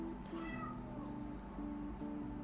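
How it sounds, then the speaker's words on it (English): A house cat meows repeatedly close by, a series of drawn-out, wavering cries in a quiet room with a faint steady hum underneath. "my cat is behind me again, meowing"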